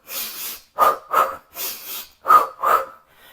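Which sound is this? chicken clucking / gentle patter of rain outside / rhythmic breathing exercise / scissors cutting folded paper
rhythmic breathing exercise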